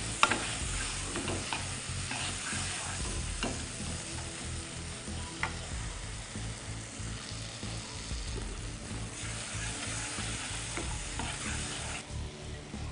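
A tamarind and gongura mixture is stirred in a hot pan for gongura pulihora, giving a continuous sizzle with repeated scraping strokes and a few sharp knocks of the spoon against the pan.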